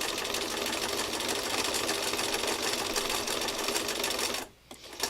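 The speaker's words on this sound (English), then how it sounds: "I'm going to stitch back over it, making sure I got to reposition the machine just a little bit so I can stitch right back over those stitches" A sewing machine stitching back over earlier stitches on fabric, a steady close rapid whirring hum that cuts off near the end, followed by faint handling sounds and no talking.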